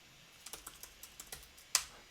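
Keys tapped on a computer keyboard, a quick run of about eight light, close clicks followed by one sharper, louder keystroke near the end, with no voices.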